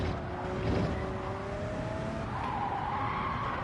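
Race car tires squealing through an understeering corner in Gran Turismo 7, a long steady whine sliding in pitch over continuous engine and road roar, loud and close throughout.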